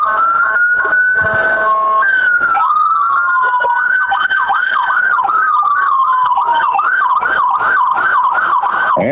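Police sirens of North Carolina Highway Patrol and Person County Sheriff's Department vehicles leading the 2023 Roxboro Christmas parade, loud and close, a long wail giving way to rapid rising-and-falling yelps that sound continuously.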